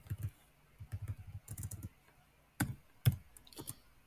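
Typing equations into the Desmos graphing calculator on a computer keyboard, with clusters of soft, close key clicks in uneven bursts and short pauses between them.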